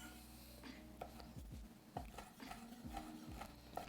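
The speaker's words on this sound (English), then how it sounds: "I'm just slicing the dates in half lengthwise and then coming back and chopping them up" A knife slices and chops dates on a cutting board, with a series of soft, irregular knocks and cuts spaced about half a second apart, faint against a low background hum.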